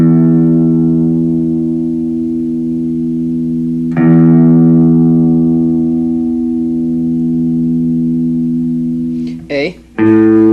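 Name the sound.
electric guitar E string played for tuning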